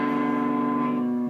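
Electric guitar with distortion sounding the open A string into a hammer-on, one sustained tone ringing steadily and loudly for about a second before cutting off.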